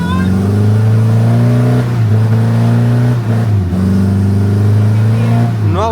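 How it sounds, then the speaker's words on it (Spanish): A safari vehicle stuck on soaked ground in Kaeng Krachan, Thailand, revs its engine hard while its wheels skid and spin. The loud, close engine drone rises and dips in several surges, with faint voices in the background. "ha derrapado y ha patinado el vehículo"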